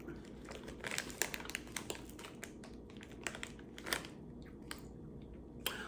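Crunchy Italian snack chewed close to the microphone, a quiet run of irregular crisp bites and crackles repeating steadily for several seconds with no talking.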